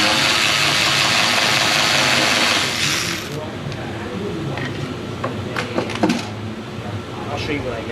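A ratchet works 8mm intake manifold bolts loose on a 2015 Jeep 3.6 with a leaking oil filter/cooler housing, giving scattered close clicks after a stretch of steady broadband hiss.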